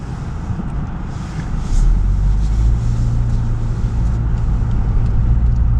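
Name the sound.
car driving on a frozen road in the Deep South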